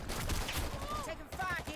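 Gunfire crackles in the team shooter video game Dirty Bomb, rapid bursts of shots mixed under and around a player's voice talking.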